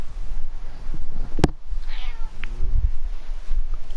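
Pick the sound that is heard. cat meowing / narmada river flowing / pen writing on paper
cat meowing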